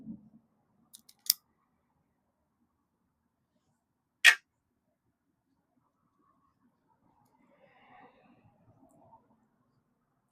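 Cigar cutter clipping the head of an Imperium Noctis Toro cigar: a few isolated, crisp snipping clicks, one sharp clean cut standing out in near silence, with faint handling rustles afterward.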